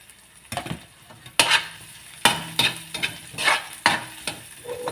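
Chop suey vegetables with bamboo shoots being stirred in a hot wok, a spatula scraping and tossing in repeated strokes over a steady close sizzle.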